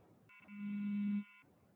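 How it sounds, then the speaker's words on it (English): A cell phone alert tone: a steady electronic beep with a strong low hum lasting about a second, standing out clearly over faint background noise, with no talking. "that's one of those alerts on my phone"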